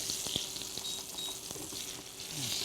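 Meat for chicken piccata browns in a frying pan, giving a steady, bright, close sizzle with a few small pops and clinks, with no talk over it.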